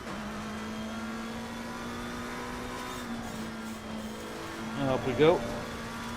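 A race car engine in a racing video game holds a steady mid-pitched drone through a practice lap, then rises in a brief rev toward the end, with a voice speaking over it.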